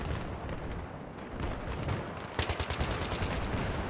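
Rapid automatic gunfire from the video game Battlefield 3 on the Grand Bazaar map, a distant crackle of shots followed by a close, loud burst of evenly spaced rounds, no voices.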